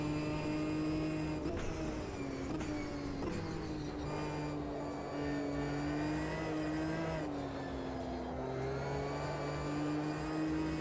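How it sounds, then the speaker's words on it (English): A race car engine in the simulator Automobilista 2 holds a steady, buzzing drone, its pitch rising and dipping slightly as the throttle changes, with shifts between gears and no voices. "Yeah, this car handles really weird."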